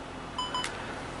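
A DJI OM5 phone gimbal gives a short pair of clean electronic beeps as it powers off, close and clear over a quiet room, followed by a brief soft click.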